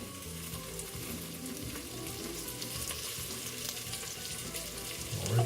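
White scallion bottoms and ginger sizzling in hot sesame oil in a pan, a steady dense crackle and hiss throughout, briefly swelling louder near the end as more is stirred in.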